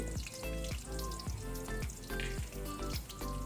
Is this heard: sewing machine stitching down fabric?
no